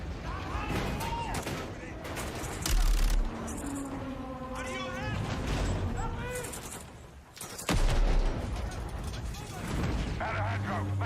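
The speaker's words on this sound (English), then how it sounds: "Let's have ourselves a gunfight." Loud bursts of gunfire in a video game gunfight on an oil rig, sharp volleys cutting through a dense mix of game effects and radio chatter, with voices talking throughout.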